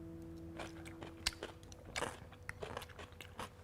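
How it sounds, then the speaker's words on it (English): Close, crisp crunching of a cucumber, shiitake and sesame-vinegar salad being chewed, with sharp irregular bites and soft chewing between them, no talking. "It has a really delicious crunch."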